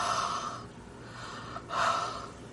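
A hand-carved rubber stamp gets breathed on to moisten its ink: two soft, airy exhales, close to the mic, with a quiet pause between them.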